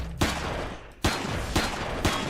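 Gunfire in the survival video game Empyrion: several loud, sharp shots fired in an irregular sequence over continuous noisy background, close and forceful, no talking.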